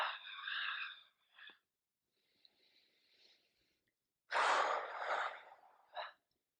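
Deep, audible breaths during a yoga session: a long breathy inhale, a faint quieter stretch, then a strong rushing exhale followed by a short final breath, close and with no talking.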